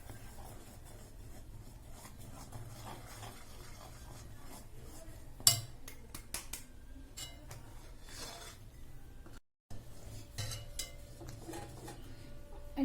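A spoon stirs and scrapes mysore pak mixture in a pan, giving soft steady rubbing and scraping with occasional metallic clinks. It is fairly quiet, stays close throughout, and no one speaks.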